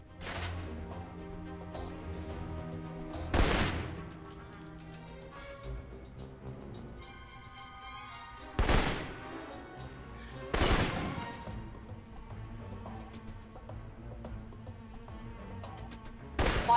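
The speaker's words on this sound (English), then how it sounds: "For long-range encounters, the assault rifle's the key." Several loud gunshots from an assault rifle in the video game Alpha Protocol, a single report followed later by two close together and one more at the end, ringing over continuous game music.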